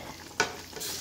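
Butter sizzling in a pan, a brief sharp crackle burst followed by a soft steady hiss, close and fairly quiet with no voices.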